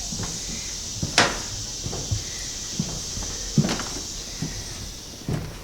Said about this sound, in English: I have a creaking with each step.